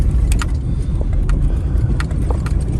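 A 1994 Ford Ranger XLT 4x4 pulled from a junkyard, its cold engine running steadily right after starting, with a loud, continuous low rumble and a few faint clinks on top.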